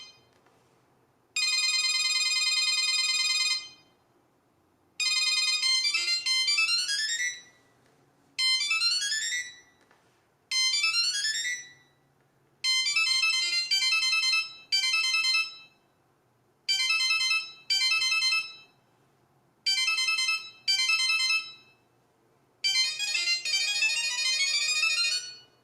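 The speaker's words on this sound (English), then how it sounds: "There's a lot of sounds to choose from. They're all basically just little jingles." A Samsung SmartTag item tracker plays a series of bright, high electronic jingles, each lasting a second or two with short silent gaps between them, repeated at different volumes.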